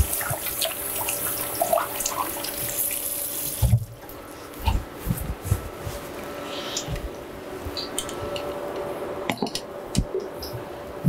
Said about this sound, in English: Just wash my hands.